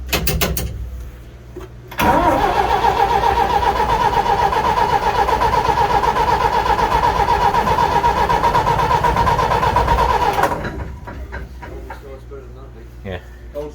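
The Gardner engine of a Scammell cranks briefly, then catches and runs loud and steady for about eight seconds before cutting out, with people talking around it.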